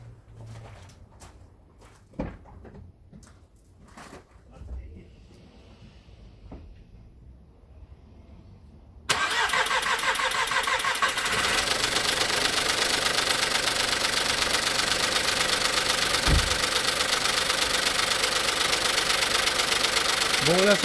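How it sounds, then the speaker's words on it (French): A Volkswagen Polo 1.2 engine turning over on its first start after repair work, quiet shuffling and clicks giving way to an abrupt loud catch and steady rough idle with an odd knocking rattle, sustained close to the microphone. "Bon là ça fait un bruit bizarre parce que c'est le premier démarrage."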